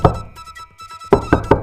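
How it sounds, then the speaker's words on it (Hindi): Knocking on a house door comes in close, loud sharp raps, a cluster at the start and then four evenly spaced knocks, with faint background music underneath. "जब वह गोपीनाथ के घर पहुंची, तो उसने दरवाजा खटखटाया।"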